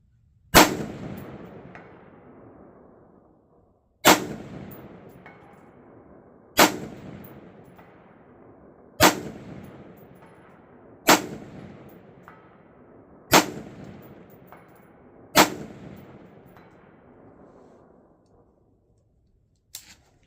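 Rifle shots fired outdoors at a steel target plate during a scope test, seven sharp cracks at a steady quick pace, each followed by a long ringing decay of the struck steel, loud and close with no talking.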